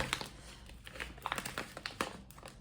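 Close crinkling and rustling of a plastic bag of tricolour quinoa as it is handled and opened, a quick run of sharp crackles with no talk.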